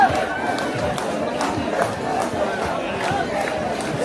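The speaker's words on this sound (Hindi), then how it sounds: "रात के तकरीबन 10 बजने वाले हैं और आप भीड़ देखिए, लोग छटने का नाम नहीं ले रहे हैं" A large crowd at night at Jantar Mantar, New Delhi, makes a dense, steady murmur of many voices with scattered shouts and chants, close and continuous, with nearby talk mixed in.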